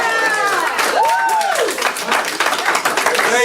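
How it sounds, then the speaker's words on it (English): A family claps with joy in a courtroom as a killer is sentenced, with a brief burst of applause heard under loud overlapping voices. "the Salter family clapped with joy as Lang was sentenced"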